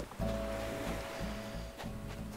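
Steady wash of ocean waves at a beach in Animal Crossing New Horizons, a continuous surf roar with a soft hum running under it.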